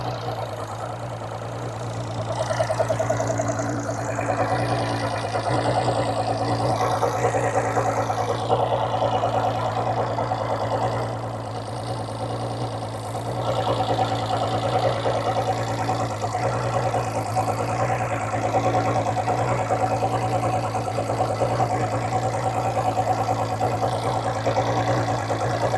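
A repaired 200 hp outboard boat motor runs steadily throughout at close range with a constant loud droning hum and a slight knocking rhythm. No voices are heard.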